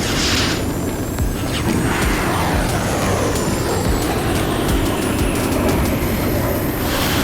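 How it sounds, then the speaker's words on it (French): A cartoon flying saucer comes in to land with a loud, continuous roar, layered with sweeping whines that rise and fall across several seconds and never let up. "Il s'avère qu'une soucoupe volante atterrit"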